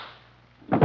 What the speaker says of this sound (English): two guns blazed in the dark